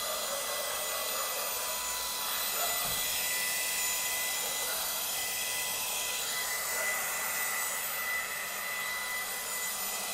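An AGARO Sapphire handheld vacuum cleaner runs on a sofa with a steady, loud whirring motor whine and an airy suction rush that holds unbroken throughout, close and constant.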